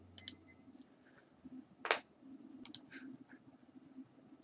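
A few quiet mouse clicks while working in ArcGIS Desktop, including one sharper click near the middle, with faint soft ticks around it against a low hum.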